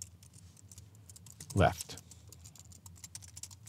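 Keys tapped on a computer keyboard in light, irregular clicks, with one louder thump partway through and a voice speaking briefly over it.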